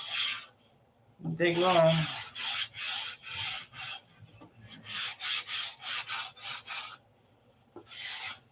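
Sanding a P-47 model flap: quick, regular back-and-forth strokes of a rasping scrape, close and steady, broken by a brief short remark.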